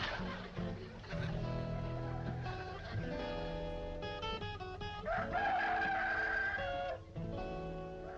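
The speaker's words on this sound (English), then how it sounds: "That's an actual rooster." A rooster crows amid a dense, continuous soundtrack of music and other noise from a vintage rural TV sitcom, the call rising briefly over the busy mix rather than standing alone.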